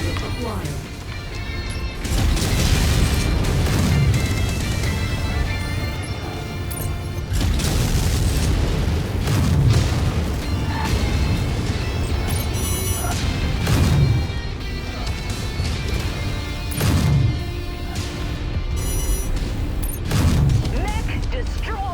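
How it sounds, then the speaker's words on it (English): Heavy booming explosions and mechanical crashes repeat every few seconds as a battle mech is destroyed in MechWarrior 5, loud and rumbling, with voices speaking over the combat. "Mech destroyed."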